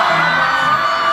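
A live concert crowd screams in a sustained, loud, high-pitched roar during a song at an Arirang world tour show, dense and unbroken throughout.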